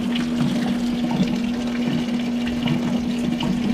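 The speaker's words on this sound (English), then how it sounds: "I'm going to disconnect this lower radiator hose here and lose all our fluid" Coolant gushing out of a disconnected lower radiator hose on a 2005 Dodge Neon, a continuous pouring splash of liquid with a steady hum beneath, no talking.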